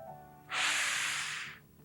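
A single deep inhale through the nose during a pelvic tilt breathing exercise, a close, loud hissing breath lasting about a second.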